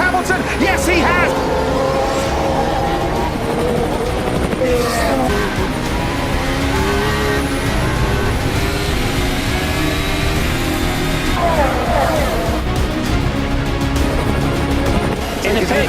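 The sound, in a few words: Formula 1 cars accelerating at race start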